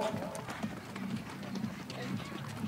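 Hooves of a horse being ridden at an Icelandic breeding show, a steady rapid clip-clop rhythm at moderate distance beneath a voice speaking over a loudspeaker.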